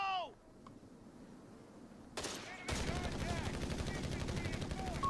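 Machine gun fire in Company of Heroes 3, with long continuous bursts of rapid shots that start partway through and keep going under other battlefield noise, fairly loud and steady.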